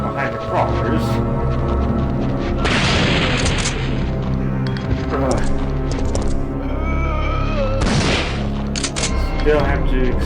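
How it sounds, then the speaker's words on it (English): Gunfire in the video game Resident Evil 3 Nemesis comes as a few sharp, booming shots spaced several seconds apart, ringing over steady game music and effects. "Still have to expend 2 extra shots to take care of these guys."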